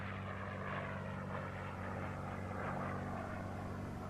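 A fighter plane drones overhead in a Chinese wartime action film, its steady engine roar holding constant and fairly distant throughout with no speech.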